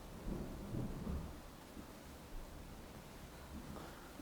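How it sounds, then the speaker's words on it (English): Faint, low rumble of thunder during a thunderstorm, rolling in soft swells over a steady hiss of rain for a few seconds, distant and quiet, with no voices. "I was yelling at the thunder"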